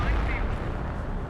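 Artillery fire in the World War II strategy game Company of Heroes: a dense, rumbling barrage of booms and blasts fills the whole moment, loud and continuous with no pause.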